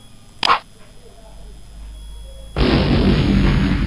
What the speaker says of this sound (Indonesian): apakah meriam ini akan mengenai si monyet?